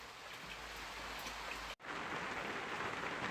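Rain falls steadily on an allotment, a soft, even patter and hiss of drops on surfaces heard alone and fairly quiet, with one brief gap partway through.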